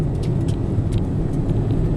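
A Citroen C1 running on LPG drives through bends, a steady low engine and road rumble heard from inside the cabin, with light rattles and knocks over the constant drone.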